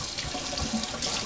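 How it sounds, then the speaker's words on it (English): Water pours onto a Naniwa Chosera sharpening stone, a continuous close splashing trickle at steady strength for just over a second, with no voices. "put some more water into the stone"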